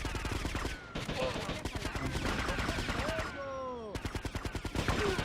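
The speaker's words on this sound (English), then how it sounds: "They shoot me through the wall." Rapid bursts of gunfire in GTA: Vice City Stories ring out in dense repeated volleys, pausing briefly before resuming with sharp, rhythmic shots while a voice talks over the fighting.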